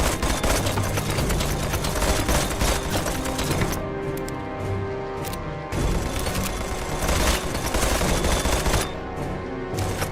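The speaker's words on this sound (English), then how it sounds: "where is he shooting from?" An enemy shooter in a video game fires sustained bursts of automatic gunfire, loud and close, in long rattling volleys broken by short pauses.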